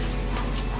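A puppy plays outdoors, letting out a short whimpering, panting sound against steady background noise, close and brief.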